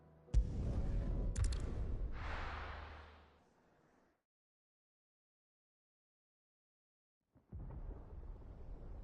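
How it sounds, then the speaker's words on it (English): Thunder in Final Fantasy XVI cracks sharply and rolls on in a loud rumble that fades into silence, then a second rumble rises near the end. "Sounds like thunder."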